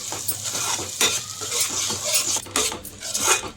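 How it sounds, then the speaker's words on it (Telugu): A spoon stirs onion tomato masala paste around a pan for chicken kofta curry, giving steady scraping and clinking against the metal over a light sizzle, close and continuous with brief louder strokes and no talk. "దీన్ని అయితే ఒకసారి బాగా కలిపేసుకుందాము"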